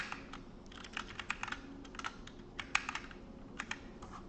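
Rapid, uneven typing on a computer keyboard during a live coding session, with crisp close key clicks clustered in bursts and short pauses, heard alone with no talking.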